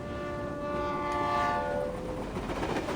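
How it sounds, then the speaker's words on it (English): A train in the video game Reverse: 1999 rumbles past with a sustained horn blast, then continues as a rolling rail clatter. It is loud and close, with no talking. "And why is the stupid train never on time?"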